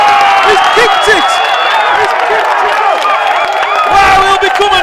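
A rugby crowd at a National Cup semi-final, Sharlston against Queens, roars and cheers loudly after a winning kick, with whoops and shouts rising over steady crowd noise and a commentator talking throughout.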